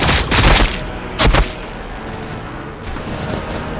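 Gunfire in the Warhammer 40,000 Battlesector game: two sharp loud bursts of rapid shots, the first lasting about half a second and the second briefer, then a low rumbling battle ambience.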